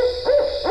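A barred owl hoots from wet bottomland hardwood forest, two or three deep, rounded calls rising and falling in quick succession, fairly close and clear against a quiet night background.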